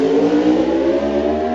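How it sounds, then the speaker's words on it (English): A high-revving Norton superbike engine at the Isle of Man TT races, a loud, steady, buzzing roar held close throughout as the bike pulls hard through its power band. "But then the high revving engine gets in when it gets into the power band and away."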